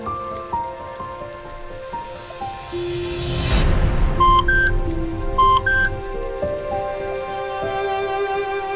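Rain falls in a steady, even patter, with electronic beeps and soft tonal music layered over it and a brief swell of noise midway.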